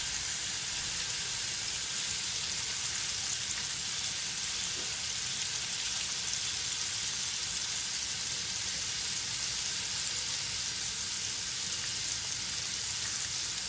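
Lamb chops sizzle steadily on a grill, a constant, even frying hiss with no talking.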